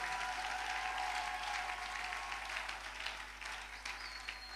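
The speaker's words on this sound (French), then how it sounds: "Est-ce qu'on peut acclamer la présence de Dieu?" A church congregation applauds and cheers to acclaim God at a worship service, broad sustained clapping from many hands that fills the room, gradually thinning slightly toward the end with no speech over it.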